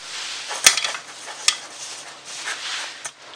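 A small metal camping cook set is handled: sharp metallic clinks and taps, two of them prominent, over a soft scraping, rustling background, close and fairly loud.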